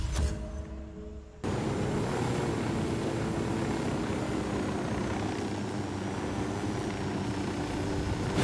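A drone in the video game Ghost Recon Wildlands cuts in with a steady, loud whirring engine drone that holds unbroken to the end, with no speech.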